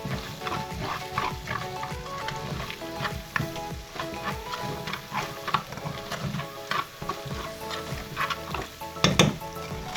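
Brown stewed pork chops sizzle steadily in a pot while a spoon scrapes and stirs them around, giving repeated clanks and rustles over a constant frying crackle, close and fairly loud with no talking.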